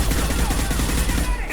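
Rapid gunfire crackles through a firefight in Mass Effect 2 Legendary Edition, a dense, loud burst of overlapping shots over a low rumble, lasting under two seconds.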